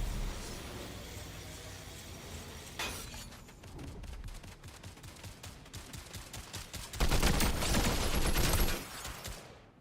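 Rapid bursts of gunfire in the Fortnite video game, dense volleys of shots and clattering impacts that swell into a louder, sustained barrage near the end, with no talking.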